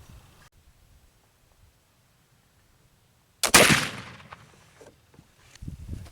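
A single sharp black powder gunshot, loaded with a blended powder, cracks out on a chilly day. The report is loud and near against a quiet background, followed by a short rumbling tail and some faint handling noise.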